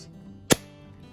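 A Nerf Rival blaster fires a single Knockout round through a chronograph in a darkened room, one sharp, loud crack that dies away quickly into near silence.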